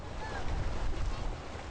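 Balboa Island Ferry crossing the water at Newport Beach, carrying cars and people on a short trip; a steady, close, low rumble of water and wind washes continuously with no distinct breaks.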